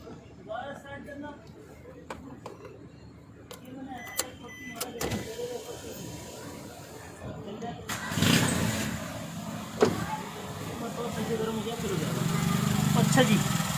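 Suzuki car engine idling and then revved hard, a rumbling motor that swells loudly toward the end, with people talking nearby over the running engine.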